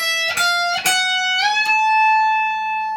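Electric guitar note played on the 14th fret and bent up a step and a half to the pitch of the 17th fret, struck several times before one bend rises and sustains, loud and alone.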